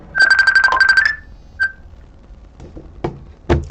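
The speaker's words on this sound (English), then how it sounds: "Why am I getting a phone call?" A phone ringtone from an incoming call sounds as a loud, rapid warbling burst of trilled beeps for about a second. Then a single short chirp follows, and a few faint knocks come after it.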